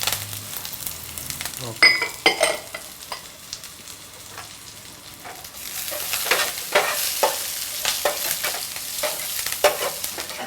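Sliced shallots and curry leaves frying for tempering in hot oil, a continuous sizzle broken by scraping stirs and spatters that grow busier toward the end, with a brief spoken word early on.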